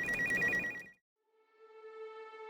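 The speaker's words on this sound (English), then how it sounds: "The phone rang." A telephone bell rings once in a sharp burst, then after a brief pause a softer electronic tone rings out and sustains, loud and close, with no voices.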